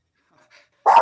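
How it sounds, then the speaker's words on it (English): A pet dog lets out a single loud, close bark after a near-silent moment with faint small noises. "with my dog and it's a beautiful day. So I'm going to try and keep her from barking"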